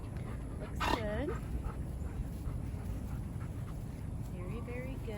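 Puppies whimper and yelp while playing and scuffling, with a sharp whine early on and fainter squeaky cries later over a steady outdoor background.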